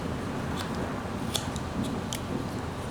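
A knife shaves wood while a miniature figure is whittled, making short, faint scraping cuts at irregular intervals over a steady background hiss.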